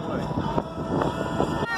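A small boat named Daisy motors across a lake, its engine droning steadily under strong wind buffeting on the microphone, with rhythmic thumps from the hull.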